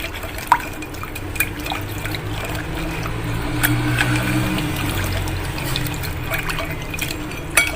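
Cold tap water poured from a cup into dissolved jelly, a steady trickling and splashing flow with faint drips, close and alone for several seconds.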